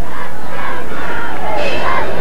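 A football crowd at a 1994 Hackensack vs Paramus Catholic high school game roars on its feet, a loud, dense, sustained wall of cheering and shouting that swells near the end.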